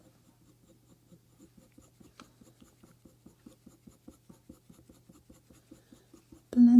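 Close, soft rhythmic scratching of a colour pencil blending burnt sienna and brown ochre on paper, a steady back-and-forth stroking that grows slightly louder before a brief burst of another sound at the end.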